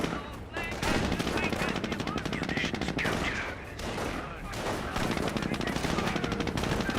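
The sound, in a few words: Jeep machine gun firing in video game Company of Heroes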